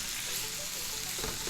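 Pork shoulder coated in gochujang sauce for spicy Korean stir-fried pork sizzles in a hot pan, a steady, faint hiss that grows slightly louder toward the end.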